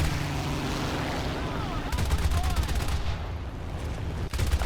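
Machine gun fire rakes a P-51 in the War Thunder arcade air battle, with a dense rattling burst around the middle of the clip over a continuous engine drone.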